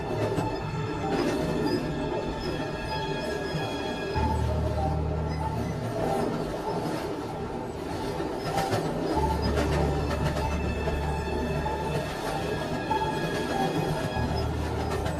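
A train rolls steadily along the track in an animated Bengali horror story, with a continuous low rumble, rhythmic wheel clatter and faint metallic squeals, loud and unbroken throughout.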